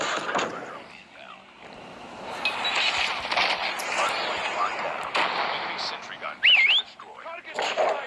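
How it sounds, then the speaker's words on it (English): Hostile sentry gun firing in a multiplayer shooter video game, heard as repeated sharp bursts of gunfire amid dense battle noise and game sound effects, with brief electronic tones near the end. "hostile sentry gun spotted"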